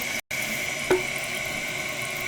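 A newly installed 1.28-gallon toilet flushes, a continuous rushing of water heard close up, steady throughout with a brief click partway.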